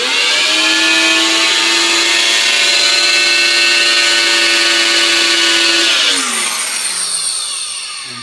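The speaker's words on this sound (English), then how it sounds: "the trick is with the NutriBullet, with the herbs and the algae oil and the salt and the pepper, okay? We just go like this" NutriBullet blender whirring steadily and loud as it purees herbs, algae oil, salt and pepper, its motor pitch holding then dropping sharply as it winds down near the end.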